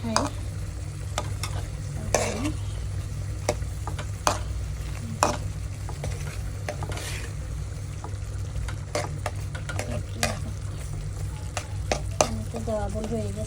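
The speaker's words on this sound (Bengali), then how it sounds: "অল্প একটু পানি দিয়ে আমি কষিয়ে নিচ্ছি।" Chicken coated in homemade ground spice paste and a little powdered spice, cooked down in a pan with a splash of water, gives a steady close sizzle with repeated scraping stirs and soft clinks throughout.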